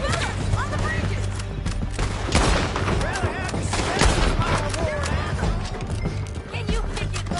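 Gunfire in the Red Dead video game, a rapid barrage of sharp cracks layered over a busy, loud mix with possible hoofbeats, while people shout urgently throughout.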